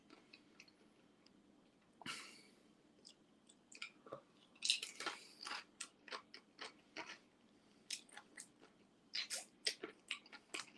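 Sardines being chewed with a beer on the side: close, wet, irregular crunches and squishy bites in bursts, fairly quiet, with no talking.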